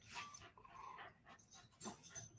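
A pet dog pants in short, quick bursts close to the microphone, its breathy huffs broken by brief pauses and soft whimpering, inside a quiet home.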